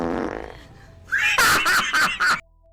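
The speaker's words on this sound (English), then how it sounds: "Oh, she farted." A short, loud, sputtering fart breaks into several buzzy bursts over about a second. Just before it comes a brief murmur or laugh-like sound.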